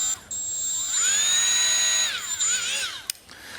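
A Milwaukee M12 Fuel 1/4-inch right angle die grinder whines at high speed, spinning up, holding a steady shrill pitch, then winding down and briefly revving again, close and loud.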